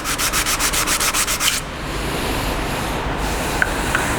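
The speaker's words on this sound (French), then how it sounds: "ce que j'utilise la pierre à huile parce que c'est bien plat et on est sûr de bien poncer à plat" An oil stone rubbed flat on a car part, a rhythmic back-and-forth scraping of about a dozen quick strokes, then gentler, softer grinding with a couple of small clicks; no talking.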